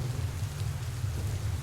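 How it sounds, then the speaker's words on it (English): A thunderstorm rolling through the night, with a steady dense hiss of heavy rain and a deep continuous rumble of thunder underneath, sustained and even throughout without any speech. "Her screams were drowned out by the thunder that roared in the sky."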